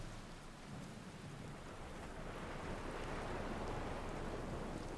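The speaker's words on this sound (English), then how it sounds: "It's stormy weather." Steady rain and rumbling thunder of a storm on an alien planet in Outer Wilds, a dense continuous wash of falling water with low rolling thunder that swells slightly louder toward the end, no voices.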